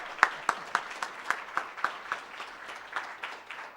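A lecture audience at Cranbrook claps to welcome a speaker, a thin and fairly sparse applause with distinct, evenly spaced claps that stays moderate in level throughout.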